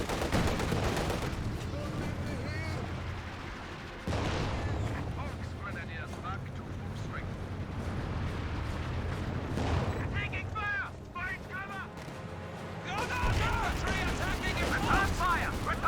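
A 6-pounder anti-tank gun fires during a Company of Heroes 2 battle, with heavy booming shots and rumbling battlefield explosions layered under a commentator's voice and mixed with other distant combat noise.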